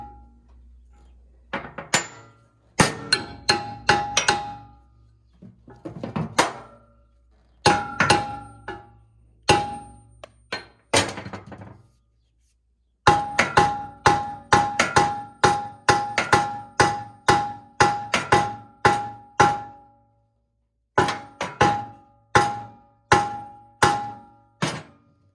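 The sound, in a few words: hammering on stuck pins of a brush mower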